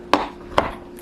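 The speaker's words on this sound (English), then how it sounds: "Like chopping up chocolate for cookies" Two crisp knife chops on a board, spaced about half a second apart, cut through dark chocolate-covered almonds, close and sharp, with a softer tap trailing at the end.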